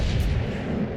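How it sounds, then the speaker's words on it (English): Naval guns firing in the World of Warships Legends video game, a deep continuous booming rumble that stays loud and dense throughout, with no voices. "Fire the guns!"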